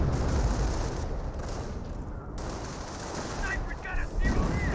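Sniper shots and M2 machine gun fire in the WWII strategy game Company of Heroes 1 form a dense, steady barrage of overlapping gunfire that stays loud and continuous, with a few brief higher bursts near the end.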